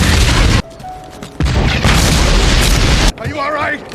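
Loud booms and blasts from a World War II film battle as bombs hit German tanks, heavy explosions broken by brief gaps, with shouted voices and chaotic combat noise in between.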